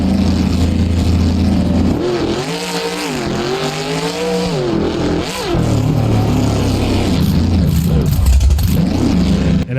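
A BeamNG race car engine roars loud and continuous through a no-prep drag run, the revs climbing and dipping in sweeping waves, with a brief note of talk underneath.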